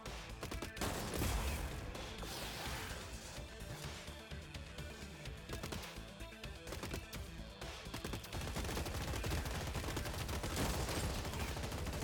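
Machine guns fire in the robot combat game Gladiabots: dense, continuous bursts of rapid gunfire crackle throughout, layered with impacts and a steady game soundtrack, loud and busy.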